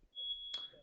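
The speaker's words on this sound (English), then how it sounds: "was that your fire alarm, Stevie?" A house smoke alarm gives one sustained high-pitched electronic beep, about half a second long, loud and close, followed by a short trailing echo and faint room noise.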